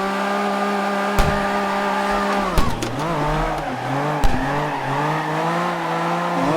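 A drift car in CarX Drift Racing Online holds a loud, steady engine drone with sharp tire squeals and abrupt shifts in pitch as it slides, close and continuous without talk.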